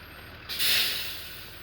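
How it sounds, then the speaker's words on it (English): Bus pulling to a stop with a sharp, loud burst of air-brake hiss that fades out over about a second, no talk. "Oh, here's the bus."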